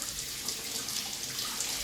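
Tap water runs in a steady, close, unbroken stream while a hand is wetted for working shaggy bread dough, with no talking.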